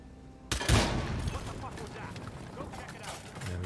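Loud gunfire in Hitman 3 breaks in sharply after a quiet moment, with a heavy booming report followed by echoing, rumbling tail and lingering game ambience.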